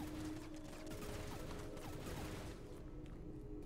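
Rapid shotgun blasts from the video game Into The Pit, a dense burst of gunfire that stays loud and steady before tailing off, with no voices.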